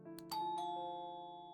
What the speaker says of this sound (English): a bright doorbell echoed throughout the house